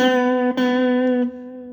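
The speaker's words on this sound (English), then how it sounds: "So your 4th fret on the 3rd string should sound like this." A single plucked electric guitar note at the 4th fret of the 3rd string rings out alone with a steady, clear tone, sustaining and slowly fading, briefly re-picked about midway.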